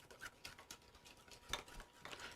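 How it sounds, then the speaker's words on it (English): A spoon stirs a runny sauce of lemon juice and cayenne pepper, giving quiet, repeated scraping and clinking strokes against the bowl in an irregular rhythm, faint and close, with no talking. "Again, I'm going to mix this thing up."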